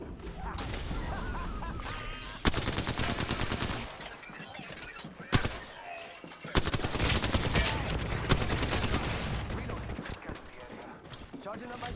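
Rapid video game gunfire, dense automatic bursts broken by sudden loud sections and brief gaps, with game effects layered throughout.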